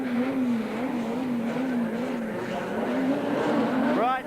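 Rallycross cars, an Audi Quattro among them, pull away from the start at a slippery Brands Hatch circuit, a loud, continuous engine roar with wavering pitch and a rising rev near the end; speech seems to sit in the mix.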